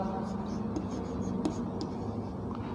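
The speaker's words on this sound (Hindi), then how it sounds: "अब लिखेंगे तथा" Chalk or marker writing on a board during a maths lesson: soft, steady scratching strokes with a few brief taps, close and moderately quiet, under a low murmuring voice.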